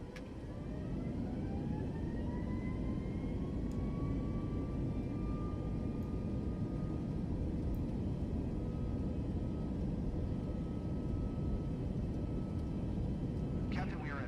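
An aircraft takes off in Microsoft Flight Simulator 2024, its engines whining upward in pitch over a steady heavy rumble that holds throughout.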